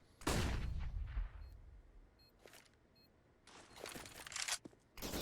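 Bursts of rifle fire in Counter-Strike: Global Offensive during a professional match, a heavy opening volley followed by quieter intermittent shots and a later rapid spray of automatic fire, loud and sharp with no talk.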